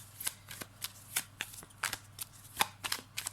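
Tarot cards shuffled and handled in a dozen or so quick, crisp riffling bursts at close range, with a faint steady hum beneath and no talking.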